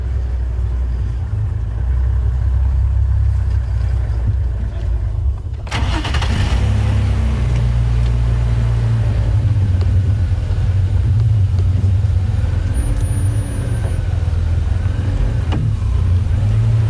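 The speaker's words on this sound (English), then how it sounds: "there are other vehicles who are making their way in now" Safari vehicles rumble in at close range on an evening game drive, with a low, loud engine drone throughout and a sharp change around the middle as another engine comes in, plus faint creaks and squeals.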